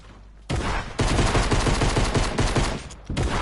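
Gunfire from a Fortnite match, a fast run of loud, close shots that keeps going for several seconds with short breaks between bursts.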